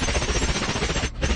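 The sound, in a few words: gunshots in the film Salt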